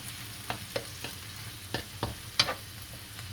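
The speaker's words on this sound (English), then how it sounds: "We'll let this cook down a little bit." Shepherd's pie filling cooking down in a pan, with sporadic clinks and scrapes of stirring over a low, steady sizzle.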